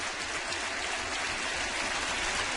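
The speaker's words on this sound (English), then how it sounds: "the crowd starting to swell with their enthusiasm here to help Sanchez come out of this inning" A baseball stadium crowd cheers and applauds in a dense, continuous roar that fills the whole stretch at a steady level, with no clear voices standing out.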